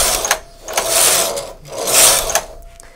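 A Silver Reed knitting machine carriage set to hold with levers at 1 slides back and forth across the bed, making rhythmic whooshing, clattering passes for three rows, loud and close with no talk.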